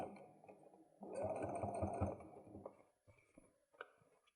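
A sewing machine stitches a fabric makeup bag in one steady, close run of about a second, with quieter handling sounds before and after.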